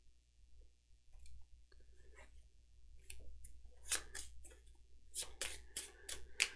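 Arkham Horror cards being shuffled into the encounter deck, quiet at first, then several crisp riffles and snaps of card stock close up, with faint handling between.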